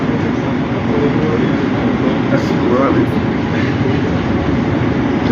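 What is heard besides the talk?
train passing near a train station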